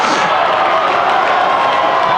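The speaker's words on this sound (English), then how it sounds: "the Ben Lomond crowd is going crazy to their dismay" Loud, dense roar of a high school basketball crowd as Ben Lomond fans cheer and shout, a steady wall of voices filling the whole moment with no letup.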